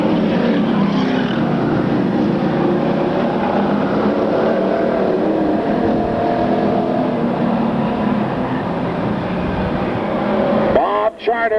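Stock cars in a Budweiser division race roar down a track straightaway, a loud sustained engine drone with rising and falling pitch, ending in a sudden burst of noise near the close.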